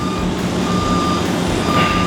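Steady, evenly spaced reversing beeps ring out from a dumpster delivery truck backing into a tight parking spot among parked cars, loud and close over a low diesel engine rumble.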